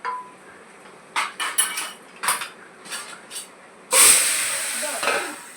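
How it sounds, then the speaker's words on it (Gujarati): Hot tadka hits dal with a sudden loud, sustained sizzle, preceded by several sharp clinks of a metal pan and utensils. "જો કેવો મસ્તીનો તડકો માર્યો"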